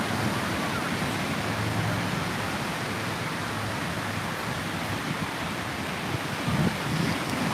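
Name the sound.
ocean waves at a surf contest beach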